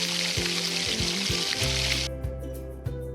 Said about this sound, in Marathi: 2 लवंग आणि 7 ते 8 लसणीच्या पाकळ्या ठेचून फोडणी टाकलेल्या आहेत